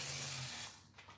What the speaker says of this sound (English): So we're just gonna go ahead, spray it all around.